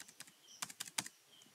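Computer keyboard keys clack in a short burst of several distinct taps, close and crisp, ending with a firmer press like the enter key, with no talking.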